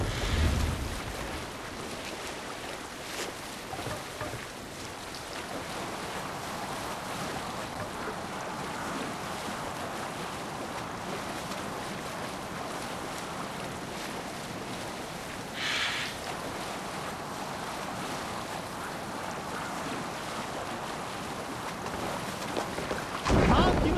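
A sailing boat out at sea in Assassin's Creed Valhalla, with a steady wash of waves and wind rushing past the hull, close and continuous, and a brief voice near the end.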